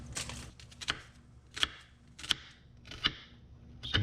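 Knife strokes on a cutting board through a store-bought onion, cut coarse, land as sharp taps about every 0.7 seconds, close and clear over a faint steady hum, with no talk.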